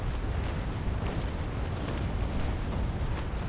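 Naval cannons fire a broadside in the Naval Action video game, a dense continuous rumble of overlapping booms lasting several seconds, heavy and loud with no talking over it.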